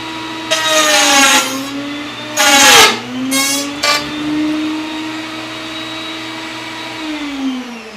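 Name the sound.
wood router making a second pass through the jig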